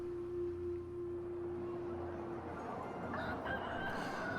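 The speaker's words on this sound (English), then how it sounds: "The cock crows and the sun rises." Rooster crowing at dawn in the medieval video game Mount & Blade II: Bannerlord, a long drawn-out call over a steady ambient game bed, followed by a brighter layered crow near the end.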